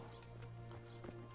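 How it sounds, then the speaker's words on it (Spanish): Horse hooves clop in the video game Kingdom Come: Deliverance, a few soft rhythmic steps over a steady game backdrop, faint and brief. "Caballo."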